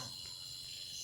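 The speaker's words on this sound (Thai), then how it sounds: "ตัวตั๊กแตน" A grasshopper chirps at night in a forest in Laos, a continuous high, steady chirring close by with a low background rumble and no voices.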